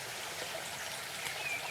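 A river in an ancient forest flows with a soft, steady babbling and trickling, gentle and continuous, with no voices.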